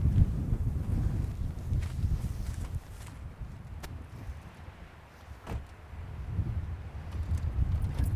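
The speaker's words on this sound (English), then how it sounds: "We're not going to hear anything in this wind." Wind blowing hard outdoors during an Arizona elk hunt, a low rumbling buffet that swells and eases, with a few faint knocks and rustles.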